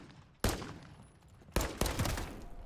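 Rifle hipfire bursts from an MTZ-556 in a video game, two sharp volleys of rapid shots with a ringing decay between them, loud and close with no talking.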